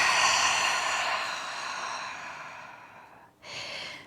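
A deep, long exhale during Ashtanga yoga breathing, a breathy rush that fades over about three seconds, followed by a short second breath, close and alone.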